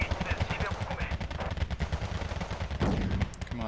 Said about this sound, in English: What I don't like is for my mortars taking fire.